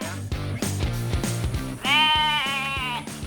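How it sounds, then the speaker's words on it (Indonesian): A Garut sheep bleats loudly and close by, one long wavering cry over a steady rhythmic background pulse. "Kayak domba Garut yang satu ini nih."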